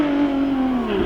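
Porsche 997 rally car engine on a rally stage, a loud steady drone with pitch sliding slowly downward as the car eases off, close and alone.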